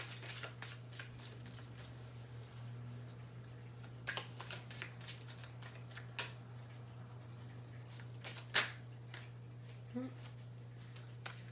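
Oracle cards shuffled by hand, a string of crisp close riffles and slaps arriving in irregular bursts over a steady low hum.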